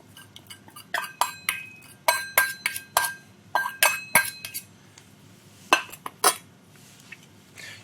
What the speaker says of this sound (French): Je vais utiliser un fouet pour pouvoir mélanger de façon homogène ma crème avant de la verser sur mon chocolat